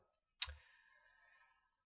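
A single computer mouse click during Fusion 360 design software work: one sharp, quiet tick with a short ringing tail, followed by near silence.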